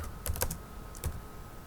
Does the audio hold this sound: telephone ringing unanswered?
no